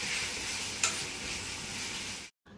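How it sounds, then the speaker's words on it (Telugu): Chopped tomato fries in a hot pan with a steady, loud sizzle while a spoon stirs it, with one sharp scrape partway through and an abrupt stop near the end. "టమాటా మొత్తం సాఫ్ట్గా మషీగా అయినంత వరకు ఫ్రై చేస్తూనే ఉండాలి"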